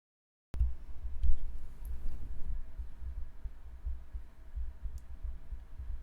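Close, muffled ASMR heartbeat, a steady low thumping pulse that begins abruptly after a moment of silence and continues evenly with a faint hum underneath.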